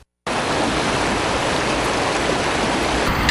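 Water gushes loudly and without a break from an early-morning water main break on McKnight Road. A short silence comes first, then the dense rushing starts abruptly and holds steady, with no talking.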